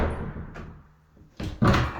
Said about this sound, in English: Door closes pretty good.